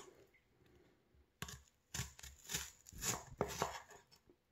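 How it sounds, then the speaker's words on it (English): A knife slices through an onion into big pieces on a cutting board, a series of crisp close cuts and crunches arriving every half second or so, with no talking. "Now I'm actually going to cut it this way because I like those big pieces of onion"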